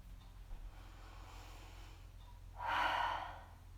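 A single audible exhale during a guided yoga session, a soft breathy whoosh that swells near the end and fades out, close and fairly quiet over faint room hum, with no talking.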